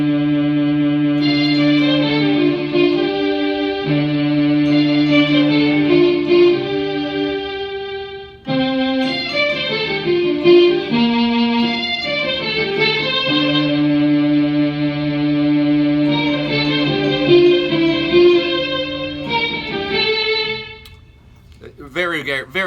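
A guitar D note played through an Electro-Harmonix Mel 9 tape-replay pedal, producing sustained layered organ-like tones with chorus and echo, held chords shifting and swelling before fading out at the end.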